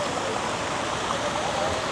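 Water from the dog fountain in Berczy Park, Toronto splashes and rushes as a steady, dense wash of sound, close and continuous, with faint city murmur behind it.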